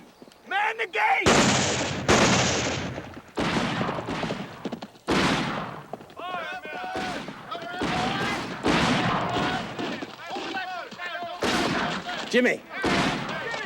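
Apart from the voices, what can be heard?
gunfire, men shooting at each other in film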